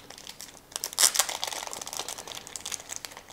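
Plastic and cardboard packaging of a Samsung hands-free headset kit for the Galaxy S6 Edge being opened: close, busy crinkling and rustling bursts, loudest around the middle, with no talking.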